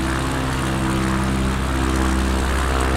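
Propeller engine of an ERCO 415 in Microsoft Flight Simulator, a loud, steady droning hum with a low throbbing tone while cruising and throttled back to around 2000 RPM, continuous and alone.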